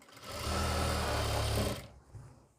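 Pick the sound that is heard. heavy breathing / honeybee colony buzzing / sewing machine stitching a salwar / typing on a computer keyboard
sewing machine stitching a salwar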